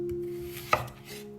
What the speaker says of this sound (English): Take 200 grams of potatoes and cut them into large squares.